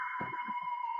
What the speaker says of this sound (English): There's that alarm again.